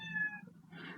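Axel the cat gives a single close meow, a tonal cry that rises and fades and is followed by a breathier trailing note, with nothing else around it.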